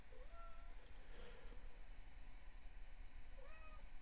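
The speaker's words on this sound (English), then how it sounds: "Here comes this damn cat again." A cat meows twice, faint and somewhat distant, with a short cry near the start and another near the end over a quiet hissing background.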